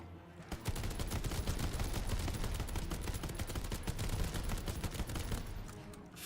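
Rapid automatic gunfire in the video game Call of Duty WW2 Zombies, a dense, continuous stream of loud shots rattling for several seconds with no talking.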